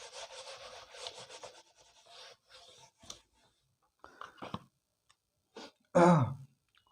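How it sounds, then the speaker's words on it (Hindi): A board duster is rubbed across a classroom board to wipe away writing, giving short scraping strokes in irregular bursts with pauses between them and a louder final swipe. "सॉरी हमारे पास स्पेस नहीं है, इसको रब कर देता हूँ।"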